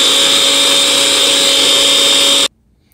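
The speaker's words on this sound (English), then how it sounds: "I'm gonna pick them out and drop them back into the food processor to make sure that everything is" A food processor whirs at full speed chopping garlic and ginger, a loud steady high-pitched motor drone that cuts off abruptly into near silence.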